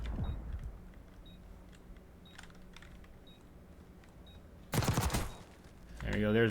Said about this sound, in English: Oh, shots fired.